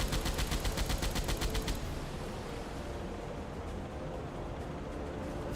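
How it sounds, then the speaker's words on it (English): An anti-aircraft gun fires at a ship in the submarine game Silent Hunter 3, making a rapid rhythmic burst of shots for under two seconds that gives way to a steady roar of sea and engine noise, with no talking. "Can I sink the ship with an AA gun?"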